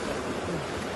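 Small waves of floodwater lap and wash steadily at a flooded site along the Siang river, a continuous close rushing noise with no voices.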